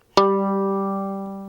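A single violin note rings out once, close and clear, with a sharp attack and a long, slowly fading sustain, heard as the reference pitch while the G string sits too low.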